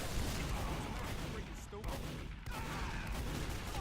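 Dense, continuous bursts of rocket explosions and gunfire roar through a Team Fortress 2 fight on cp_process, loud and chaotic, with a voice under the din.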